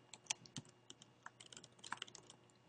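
Someone types a word on a computer keyboard, a quick run of soft, close key clicks in an uneven rhythm, quiet and with no talking.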